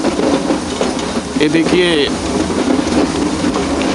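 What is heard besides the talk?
train running on the Ooty railway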